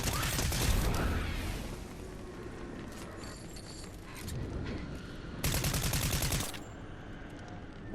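Rapid bursts of gunfire from a video game as a player shoots at a monster's eyeballs, loud dense volleys near the start and again around the sixth second, with quieter game noise between.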